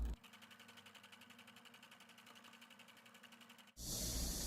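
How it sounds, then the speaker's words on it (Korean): A sewing machine runs a fast, even stitch along the inner neckline of a blouse, its rhythmic needle chatter holding steady for several seconds before a sudden loud burst of noise cuts in. "목 안쪽 선 박음질 하도록 하겠습니다"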